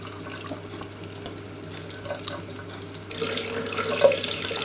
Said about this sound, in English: under the flow of water, and that will push the water through the tubing and out